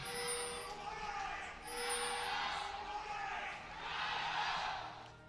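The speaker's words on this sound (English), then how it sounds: "The crowd chants coming forth right there" Fans in a large arena crowd chanting at an esports match, a steady loud roar swelling in waves, with a caster's voice talking over it.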